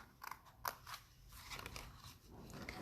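Scissors snip through paper along a score line, a few crisp close cuts followed by quieter crunching trims, soft and intimate with no talk.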